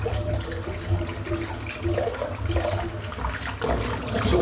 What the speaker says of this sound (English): I'm just going to empty the sink out because it's full of hair